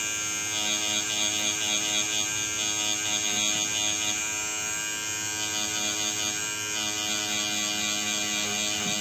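A tattoo machine held sideways while shading a realistic clown tattoo gives a steady, close electric buzzing hum that runs unbroken throughout, with slight rhythmic variation from the back-and-forth strokes.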